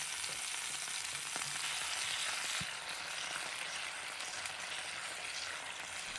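Marinade poured into a clay pot with golden pompano fish pieces sizzles in a dense, even hiss that stays close and steady, with a few faint clinks and no talking.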